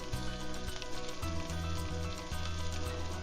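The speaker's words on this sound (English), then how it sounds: "it's starting to get more bubbly and more evenly melted" Parmesan cheese frying in a pan, browning at the edges as it melts into a cup shape, sizzles and bubbles in a steady, dense hiss throughout, with no talk over it.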